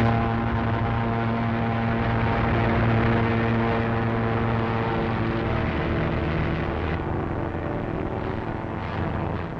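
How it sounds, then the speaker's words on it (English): British WWII fighter planes engage the Luftwaffe overhead, heard as a loud, continuous droning roar of propeller engines that stays steady throughout. "High overhead, British fighter planes fought the Luftwaffe to a standstill"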